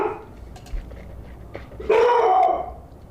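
Mika the dog barks at the neighbors indoors, a few faint yips and short barks at first, then one louder, drawn-out bark-whine near the end.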